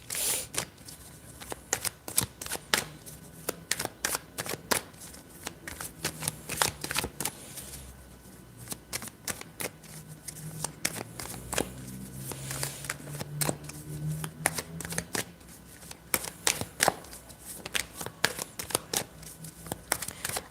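Tarot cards are shuffled clumsily for about twenty seconds, giving a steady run of crisp, close riffling clicks and soft sliding rustles with no voices.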